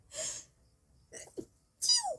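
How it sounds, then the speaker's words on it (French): A person sneezes, a sharp burst followed by short breathy snorts and another loud sneeze, close and alone without talk. "Pardon, j'ai encore éternué, c'était moche, je sais."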